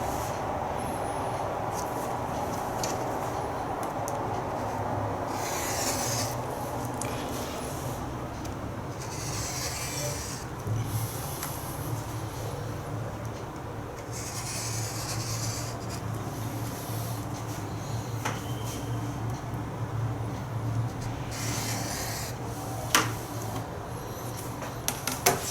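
Fabric being cut for a Hunter's Star quilt block, a long continuous rasping, scraping stroke sound up close, with small clicks and knocks scattered throughout.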